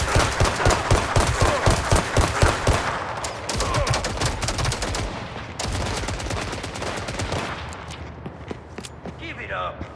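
Rapid gunfire from the video game Gangstar Mirage City, with dense bursts of automatic shots and rattling volleys that stay loud and close through most of the stretch, then thin out toward the end.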